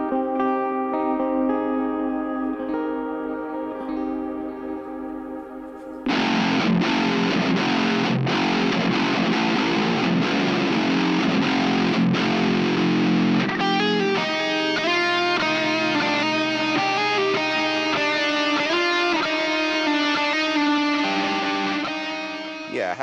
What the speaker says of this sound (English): So it's like an A and B from super distortion to super clean